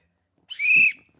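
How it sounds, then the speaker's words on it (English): A single shrill whistle blast, blown once and held for about half a second, close and clear against a quiet background. "We're blowing the whistle."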